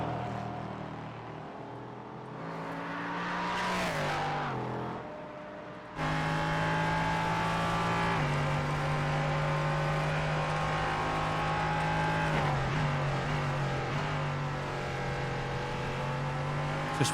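Onboard engine of the No. 46 Track Limits Racing LMP3 race car at Watkins Glen, loud and close, a sustained high-revving drone that dips on downshifts and climbs again through a shift around six seconds, with no voices over it.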